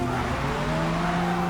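A Honda NSX race car launching off the start line in Forza Motorsport, racing A-Class at Barcelona, with a loud steady engine drone and rising tonal whine, tires squealing beneath, close and sustained throughout.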